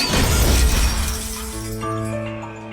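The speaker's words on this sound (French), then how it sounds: "la lourde porte s'effondre dans un fracas" A heavy door gives way and collapses in one loud crash, followed by a ringing, shattering decay that fades over a couple of seconds.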